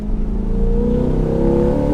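A 2020 Chevrolet C8 Corvette's naturally aspirated V8 revs up, a loud, close, throaty drone with its pitch rising steadily over two seconds.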